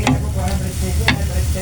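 Bitter gourd (ampalaya) stir-fries with oyster sauce in a pan, giving a steady close sizzle with a couple of sharper scraping stirs and spatula clatters.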